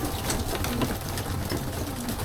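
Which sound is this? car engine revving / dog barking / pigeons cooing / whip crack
pigeons cooing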